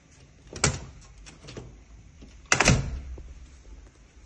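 A Turkish-style aluminium front door of an apartment is handled and opened, giving two distinct knocking thuds about two seconds apart, with faint rattles and shuffling between them, close and otherwise quiet.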